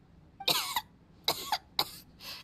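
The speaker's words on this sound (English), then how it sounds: "She's still coughing." A character in the video game Genshin Impact coughs in a few sharp, harsh bursts, a quick pair followed by two more coughs and a softer final rasp, close and clear with no talk.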